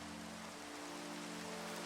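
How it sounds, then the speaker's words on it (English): Steady hiss of rain falling in Minecraft, a faint, even wash of noise with a low hum underneath, constant throughout and free of talk. "I mean, the rain's loud"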